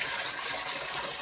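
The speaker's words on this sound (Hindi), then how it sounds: "देखिए नीचे आने पर एक बहुत अच्छा ये पहाड़ी झरना" A mountain waterfall spills down near Shakleshwar Mahadev on the Rudranath trek, with cold water pouring from a rock spout shaped like a cow's mouth. It makes a steady, dense rushing wash, close and loud and unbroken, with no voices.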